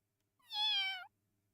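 One clear, high-pitched kitten meow from the video game Variable Barricade, lasting under a second, close and alone against near silence.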